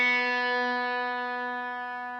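One guitar string plucked on a B note as a tuning reference for beginners, a bright sustained tone ringing on its own and gradually decaying.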